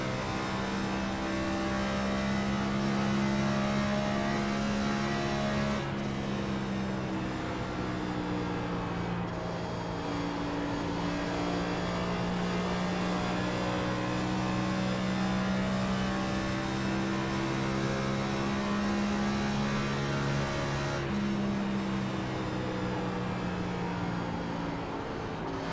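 Steady, loud layered engine drone from NASCAR race cars in a Coca-Cola 600 video game race, sustained harmonic whine shifting pitch with gear changes and throttle, continuous throughout with no talk.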